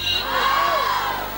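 A crowd shouts and cheers at a lively outdoor gathering in Mungeli, Chhattisgarh, a dense roar of many voices with high whoops rising and falling over a brief burst.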